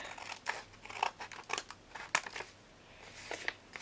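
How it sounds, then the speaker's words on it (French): Scissors snip finely through washi tape for a scrapbooking die-storage project, a quick irregular series of close, crisp cuts and paper rustles with short pauses between them. "Là, je vais découper tout fin parce que je le recouperai après."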